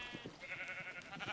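Sheep bleat in a Minecraft game with mods, a short series of quiet, nasal bleats repeating close together.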